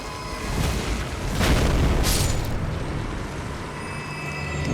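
An enemy exploding in Elden Ring Shadow of the Erdtree, a loud broadband boom and rumbling blast that swells and lingers with dense low-end roar across the whole moment.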